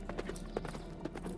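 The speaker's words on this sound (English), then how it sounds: "Lux turned her horse and galloped from the town" Horse hooves galloping in an audio drama, a quick run of soft thudding beats, faint and somewhat distant, over a low background hum.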